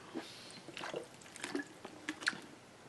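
Faint, scattered drips of water fall irregularly, a few soft splats spaced across a few seconds against a quiet background.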